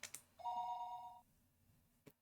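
A single electronic telephone ring sounds for nearly a second in the visual novel Higurashi, a steady two-tone trill in a quiet room with faint clicks around it.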